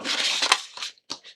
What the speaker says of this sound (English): we're going to unload the mat by clicking the unload button